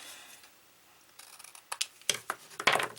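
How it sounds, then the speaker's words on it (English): Scissors cut a tag shape from cardboard: quiet at first, then a quick cluster of sharp snips and crisp crunches close by, with no talk. "you can cut a tag shape from your cardboard and you can angle the ends"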